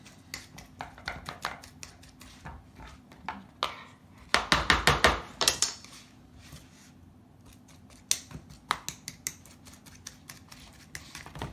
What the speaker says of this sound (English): Just go and squish them against the bowl.